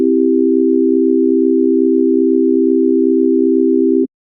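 A steady pure synthesizer tone from Xfer Serum with oscillators A and B set identically, holding one loud unchanging pitch for about four seconds before cutting off abruptly into silence.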